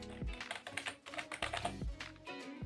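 Quick bursts of keystrokes on a computer keyboard, close and clear, with short pauses between irregular clusters of taps and a few heavier key presses.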